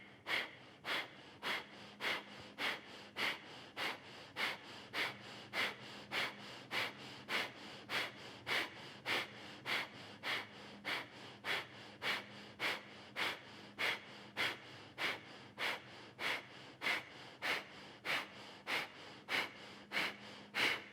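Breathing in a yoga class: a long run of quick, forceful, evenly spaced breaths, about thirty in steady rhythm, each a short airy puff. It is fairly faint, with no talking.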